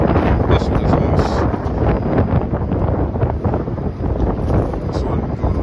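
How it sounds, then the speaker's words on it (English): Strong outdoor wind buffets the microphone at a freight yard, a loud, rough, continuous rumble that gusts and churns throughout. "And that wind is a son of a bitch."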